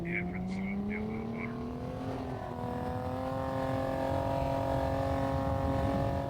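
Car engine in Half-Life 2 driving on a beach, a loud, steady motor hum that rises gradually in pitch as it accelerates, with brief chirping effects at the start and a voice talking over it.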